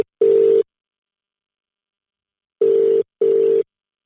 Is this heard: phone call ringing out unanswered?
yes